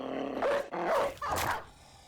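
A dog in the video game Battle Brothers barks in a short burst of three sharp, loud, close barks and then falls quiet.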